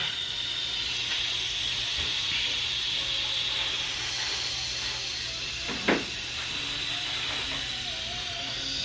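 Steam hissing steadily out of a sealed cooker before it is opened, a continuous loud hiss with one brief knock partway through and no talk.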